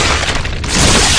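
A loud burst of sniper rifle gunfire in Resident Evil 4, a heavy booming blast that fills the short moment, swelling again toward the end with no speech over it.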